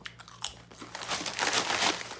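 Lamb and rosemary potato chips crunched up close, steady loud chewing and biting, with no talking.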